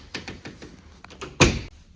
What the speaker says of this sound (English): Close this door.